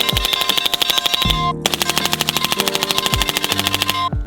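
Rapid fire from a rifle fitted with a Radical Defense CS-3 suppressor, loud dense strings of shots heard from the shooter's position, with a brief pause between bursts.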